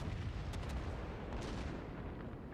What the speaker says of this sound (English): Dastard is about to eat a torpedo.